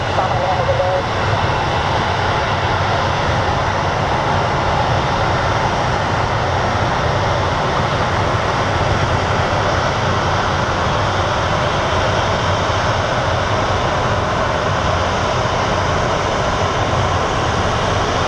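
Airplane flying past Sky Harbor International Airport in Phoenix, a loud, steady, broadband engine roar that holds throughout without fading, with talk partly mixed into it.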